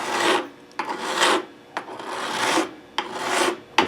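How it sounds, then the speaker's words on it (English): Metal file rasping across a high fret on a Stratocaster guitar neck in repeated light back-and-forth strokes, close and dry, each stroke a short rough scrape with pauses between. "You can hear, just by the sound of the file, you can hear there's no resistance there."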